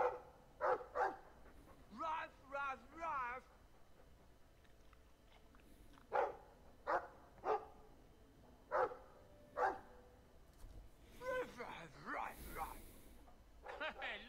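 A Mabari war dog in the Dragon Age II video game barks and growls in short separate bursts, spread across the stretch at moderate level, with quiet game sounds and a voice talking between them.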